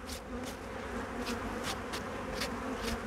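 Bees swarm around a beekeeper lifting honeycomb frames from a hive, producing a continuous close, dense buzzing drone with individual insects flying past the ear in brief louder whines.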